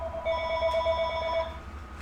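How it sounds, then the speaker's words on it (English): A telephone rings with a steady, buzzing electronic warble, repeating continuously and fairly close, with no talking over it. "Phone has been ringing like crazy today"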